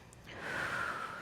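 A single strong, audible breath drawn sharply through the nose during a foam rolling workout, close and brief.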